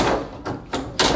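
Door at a house under inspection swung open and shut, giving a couple of dull thunks and a sharper close near the end, close by with no talk over it.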